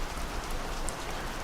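Steady rain pours down in a dense, even hiss of countless drops striking surfaces, continuous and fairly loud with no voices.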